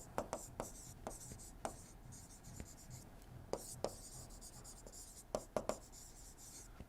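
A lecturer writes equations on a board during a thermodynamics lecture. Scattered taps and scratchy strokes come irregularly over faint room noise and sound quiet and close.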